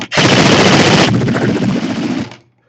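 An airsoft gun fires on full auto in one continuous, loud, close burst lasting a couple of seconds, rapid rattling shots blurring together before cutting off abruptly.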